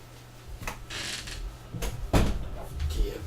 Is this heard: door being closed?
yes